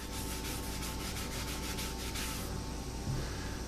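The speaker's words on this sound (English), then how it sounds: "And we're gonna sand that back." Royal blue stained wood is sanded back with steady, rhythmic abrasive rubbing strokes, dense and close, continuous throughout with no speech.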